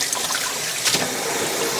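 Running tap water in a kitchen sink as hands are washed during dinner prep, a steady close splashing flow with a brief brighter spatter partway through, no voices.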